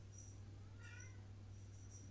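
A pet cat named Bob gives a single meow near the middle, fairly faint over a steady low hum in a quiet indoor room.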